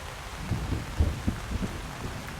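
Heavy rain pours steadily in a video game, a dense, continuous wash of noise with low rumbling thumps underneath, no voices.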